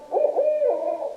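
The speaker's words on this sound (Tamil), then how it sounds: "ஆந்தை" An owl hoots in a steady, low, mellow call that runs for a little over a second, close and clear, with no voices.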